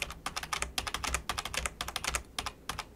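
Rapid clicking on a computer keyboard with a single key struck again and again, the G key, in quick, slightly uneven bursts, close and crisp with no speech.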